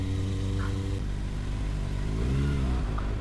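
Kawasaki ZX6R motorcycle ridden at night through Pattaya city streets, its engine droning steadily and close, then dropping in pitch partway through and climbing again over a constant rumbling background.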